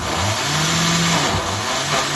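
A motor-driven blender whirs steadily while mixing homemade Shamrock Shakes, a loud continuous buzz with a slightly wavering hum throughout.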